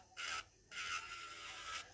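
Short rasping strokes of a 180 grit nail file shaping a sculpted stiletto nail, two quick close passes with a brief pause between, soft and dry.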